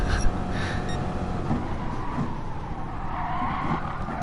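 Tires skid and scrub on a car in GT Sport, a sustained sliding hiss over engine drone, fairly quiet and continuous without speech.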